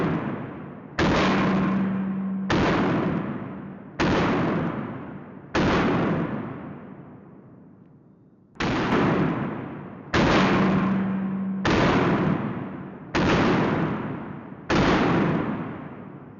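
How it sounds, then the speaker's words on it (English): A Glock 17 pistol fires ten rounds downrange, each shot a loud, sharp crack with a decaying ring, spaced about one to two seconds apart with a longer pause midway, close and very loud. "This is a Glock 17 with no backside, actually. But we got 10 rounds. We're gonna put it down range."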